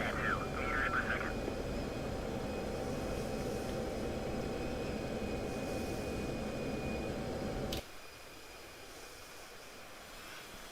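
An F-16 jet in the DCS flight simulator comes in to land, its engine a steady broadband roar with a thin tone on top. A radio voice talks over it early on, and the roar drops to a quieter hiss near the end.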